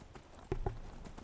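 Horse hooves clip-clopping in the video game Skyrim, a few soft, irregular hoof strikes set against a quiet ambient background.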